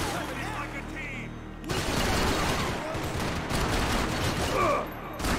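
A video game firefight erupts into sustained gunfire, a dense, loud rattle of rapid shots that runs for several seconds after a quieter opening, with voices shouting over it.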